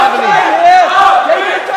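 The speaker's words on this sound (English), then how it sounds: "The hometown crowd cheering him up. The crowd just erupted with a rough three-quarter mount." An MMA fight crowd erupting in loud cheers and yells for a hometown fighter, a dense roar of many voices, close and sustained for the whole moment.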